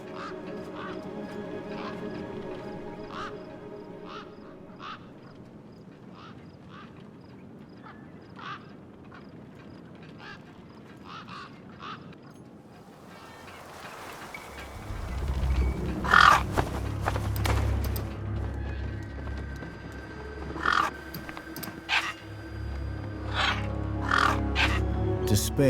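Scavenger gang birds in the game Beyond a Steel Sky call repeatedly, at first thin and distant, then louder harsh caws over rumbling wasteland ambience.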